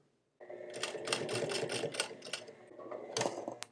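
A sewing machine stitching thick gauge thread through layers of cotton twill for black jeans, a rapid run of close mechanical clicks and whirring that starts abruptly after a short silence and labors unevenly.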